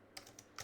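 Typing on a computer keyboard, three or four quiet, quick key clicks in a brief burst.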